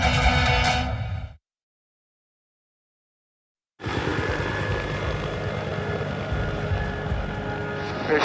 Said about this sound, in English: This is a rescue helicopter